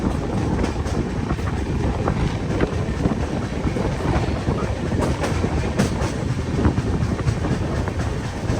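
The Ajmer–Durg Weekly Express runs along the line with a loud, continuous rumble and clatter, mixed with heavy wind buffeting, steady throughout from close range.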